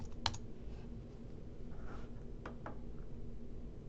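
Soft keystrokes tapping on a computer keyboard in a quiet room, a few sharper clicks early on and scattered irregular taps afterward, faint and close.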